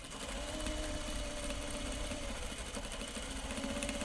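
A serger sews grime guards, running continuously at close range with a rapid buzzing mechanical chatter and a steady motor drone, unbroken throughout with no talking.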